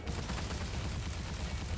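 Dense, continuous rapid gunfire from the player's weapon in Immortal: Unchained rumbles loudly and without break, heavy in the low end with a busy crackle on top and no pauses.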